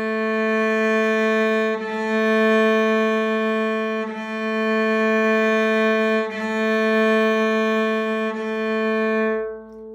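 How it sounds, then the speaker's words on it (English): Cello played on the open A string with the upper half of the bow, four long sustained down-bow notes, each swelling slightly, joined by brief bow changes, rich and steady with no talking. "to play open string, open A string, and to use only the upper half of the bow"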